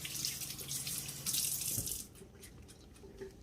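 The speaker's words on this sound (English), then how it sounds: "Wash my hands." Hands are washed under a running tap, with a steady spray of faucet water for about two seconds before the flow softens to quieter splashing and dripping.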